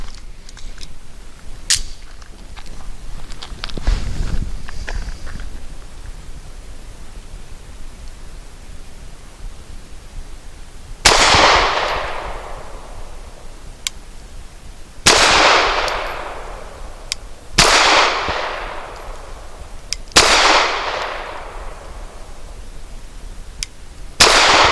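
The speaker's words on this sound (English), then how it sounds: "5 shots from 7 yards for accuracy, and I will aim at the right circle square." Pistol shots from a Cosaint Arms COS11 firing Nosler 115 grain rounds at 7 yards, four sharp loud reports spaced a few seconds apart, each ringing out with a decaying tail, after faint handling noise.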